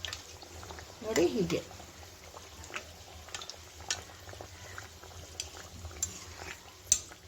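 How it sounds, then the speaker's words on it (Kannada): Kachori frying in hot oil as oil is spooned over the second batch, giving a steady soft sizzle with scattered clinks and stirring scrapes, while a person speaks briefly. "ಸೆಕೆಂಡ್ ಬ್ಯಾಚ್ ಹಾಕೊಂಡ್ಮೇಲೆ ಮತ್ತೆ ಅದೇ ರೀತಿ ಎಣ್ಣೆನ ಅದ್ರ ಮೇಲೆ ಹಾಕೊಳ್ತಾನೆ ಇರಿ"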